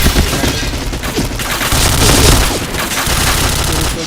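Dense, loud bursts of automatic gunfire and booming blasts overlap almost without pause in an online match of the first-person shooter Point Blank.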